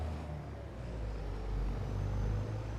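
A truck in Farming Simulator 25 strains as its rear wheels spin, a low, rough engine drone that swells louder toward the end, close and without talk.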